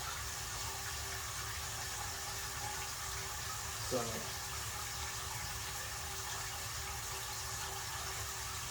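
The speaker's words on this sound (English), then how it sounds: "we're almost done filling these up" Water runs steadily into 5-gallon buckets being filled for a 75-gallon fish tank water change, a constant faint rushing hiss, with a brief spoken word partway through.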